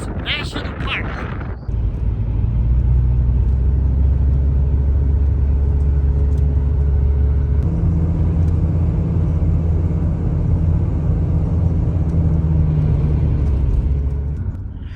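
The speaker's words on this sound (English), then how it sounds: "We'll just put the camera on the dash and drive along the road" A car driving along a road through Badlands National Park, heard from inside the cabin as a loud, steady low rumble of engine and tire noise that carries on almost unchanged, with no voices.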